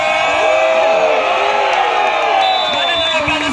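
A crowd at an outdoor volleyball match on a village court shouts, whoops and cheers loudly and continuously, with an announcer's voice carrying over the noise.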